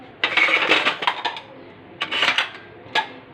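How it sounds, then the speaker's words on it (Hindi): Freshly washed dishes, pots and utensils being set into a dish rack in a home kitchen, giving close, bright clattering and clinking in several quick bursts separated by short pauses. "बर्तन बस लगा दूँ मैं स्टैंड में"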